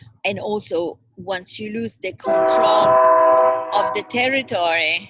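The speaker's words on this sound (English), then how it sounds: "That's the train." A train passing in the background gives a loud, sustained horn blast with steady tonal harmonics for about two seconds, mixed with rumbling noise, while a person keeps talking before and after it.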